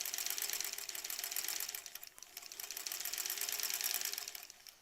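A sewing machine runs steadily along the edge of an embroidered zipper pouch, a close, continuous buzzy whir with slight swells and one short dip, and no voices.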